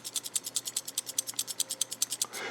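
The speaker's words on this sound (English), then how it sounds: "if you get one of these and you hear that kind of rattle noise, nothing's broken, nothing's loose, it's the compression springs on the guide rods" A Kershaw Induction folding knife is shaken, rattling the compression springs on its guide rods. About twenty quick, even metallic clicks fire in steady rhythm, close and alone.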